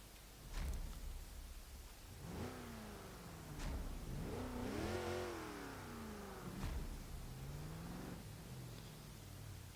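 A car engine in Forza Horizon 3 revs repeatedly while driving on a snowy mountain course, with rising and falling pitch sweeps through gear changes and one long climbing rev near the middle, loud and continuous throughout.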